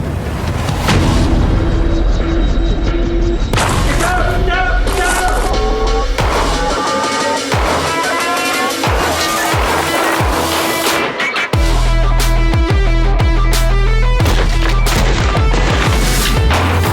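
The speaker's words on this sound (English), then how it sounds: "Now we come to stage 1, part 2, shooting evolutions. If you like guns," Gunfire during military shooting evolutions: loud, dense booming shots and rapid bursts, mixed with a bed of music.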